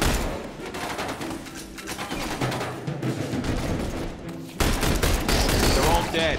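Gunfire from the video game The Bureau: XCOM Declassified: dense, rapid volleys of shots crackle throughout, growing louder and harsher toward the end, with game voices speaking underneath.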